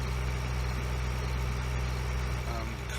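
Steady low idle of a tractor engine in Farming Simulator 2013, a constant deep rumble with even harmonics holding level throughout, continuous and close with no pauses.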